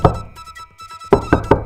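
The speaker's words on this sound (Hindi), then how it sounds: "जब वह गोपीनाथ के घर पहुँची, तो उसने दरवाजा खटखटाया।" Knocking on a door: a close, loud series of firm raps, a few quick knocks, a short pause, then another quick burst of three or four knocks.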